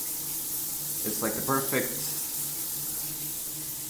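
Water running from a tap in an apartment in France makes a steady, even hiss that fills the whole moment while a person talks briefly over it.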